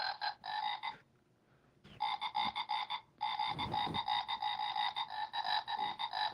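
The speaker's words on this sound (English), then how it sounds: "we'll give you, of course, the traditional Christmas frog" Repeated frog croaks in loud, rapid bursts, pausing briefly near the start and again around the middle before resuming steadily, with no talk over them.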